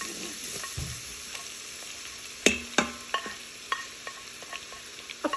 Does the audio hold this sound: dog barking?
no